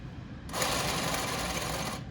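A sewing machine stitches a shirt cuff in New York Yankees print fabric, its motor starting abruptly and running a fast, steady, close-up buzzing whir for about a second and a half before stopping, with no talking.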